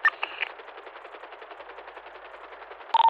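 Rapid automatic gunfire from an aircraft in a nighttime video game battle, a steady dense rattle running for a few seconds with a louder burst at the end, no talking.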